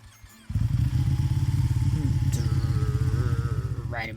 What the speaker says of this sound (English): Riding my motorcycle.